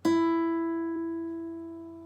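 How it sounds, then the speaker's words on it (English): A single plucked low E string on a guitar being tuned, one clean attack that rings on steadily and slowly fades, close and fairly quiet with no voices. "So you make sure your E sounds like this"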